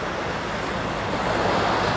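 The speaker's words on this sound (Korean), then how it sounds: "저는 서천의 춘장대 바닷가에 와 있습니다." Ocean waves at Chunjangdae beach in Seocheon: a loud, steady wash of surf mixed with wind buffeting the microphone, continuous and without voices.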